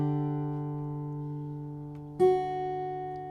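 A single guitar note picked on the high E string at the second fret rings out alone and sustains steadily, with a second pluck re-sounding it about two-thirds of the way through.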